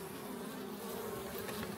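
Dense, steady buzzing of honeybees crawling over a hive comb, a close, continuous drone with no pauses.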